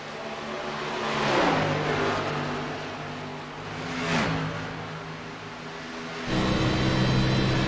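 Onboard engine of Kirk Marble's race car at Michigan, a loud continuous roar held flat out with no clutching, rising and sweeping in pitch through a couple of surges before a steady higher drone near the end.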